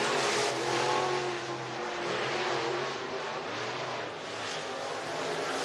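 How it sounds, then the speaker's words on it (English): Race cars roar around Talladega Short Track in Talladega, Alabama during a qualifying session, a dense, continuous engine din with slight swells as cars pass, heard from trackside. "These should be the last cars in qualifying group number 1."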